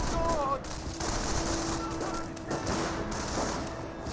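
Automatic gunfire and scattered shots crackle through a Company of Heroes battle, with machine-gun bursts rattling over dense ambient combat noise while a voice talks over the action.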